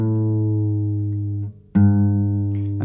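Single sustained guitar A string note whose pitch slides downward as the tuning peg is turned, briefly dipping and then plucked again to ring steadily, heard alone and close.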